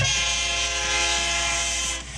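A train sound effect plays with a loud, sustained horn blast over rumbling rail noise, close and steady before tapering off at the end.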